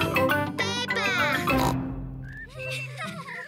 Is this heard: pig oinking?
yes